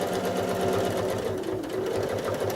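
Home sewing machine running steadily for free-motion quilting, stippling and echo shell designs on a quilt block, a fast even mechanical chatter with regular needle thumps throughout, close and fairly loud, no voices.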